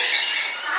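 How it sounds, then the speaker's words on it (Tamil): A flock of parrots squawks continuously in a dense, shrill chorus of overlapping calls at Yercaud, a hill station. The sound is loud and steady with no pauses. "அது ஃபுல்லாக வந்து கிளி தான் வந்துட்டுருக்கு"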